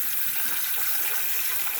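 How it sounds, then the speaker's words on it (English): Tap water runs steadily into a bowl of Brussels sprouts in a kitchen sink, a continuous close hiss and splash with no break and no voices. "and then I'm going to keep running water in it."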